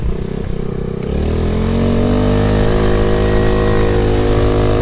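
Steady engine drone of an Ice Bear Vision 150cc motorcycle being ridden, close and loud, pitch rising as it accelerates then holding a continuous cruising note throughout, with no talking.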